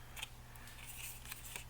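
Scissors snip through paper while trimming a Christmas craft project, a few soft, close crisp cuts over a low steady background hum.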